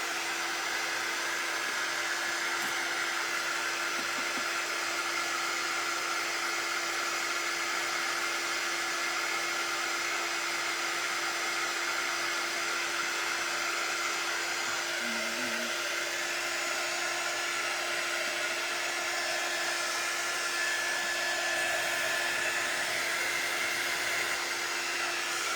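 A hair dryer blows continuously for the whole stretch, a loud, steady whooshing roar with a faint constant whine and no voices.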